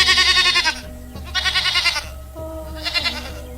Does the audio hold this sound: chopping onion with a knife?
no